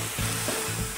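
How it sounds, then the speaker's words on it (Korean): Beef and garlic chives sizzle in a frying pan, a bright steady crackle of hot oil with a couple of soft scraping stirs, close and alone without talk. "지글지글."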